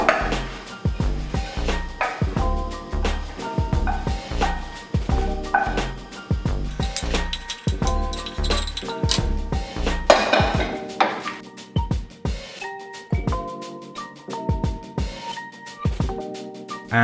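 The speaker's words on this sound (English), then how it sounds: "Here you're going to essentially make scrambled eggs." Scrambled eggs for golden fried rice being stirred in a pan: a busy run of sharp metallic clinks and scrapes from a utensil against the cookware, loud and close, thinning to sparser taps near the end.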